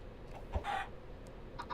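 A chicken in Minecraft giving a short, faint cluck and a few soft blips against a quiet background.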